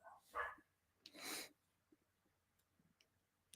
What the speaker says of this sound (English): my dogs are barking